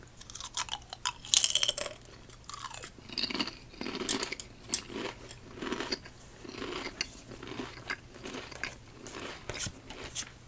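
Close, crisp crunching of Lay's Deep Dish Pizza flavored potato chips being chewed, a steady run of crackly bites with no voice over it.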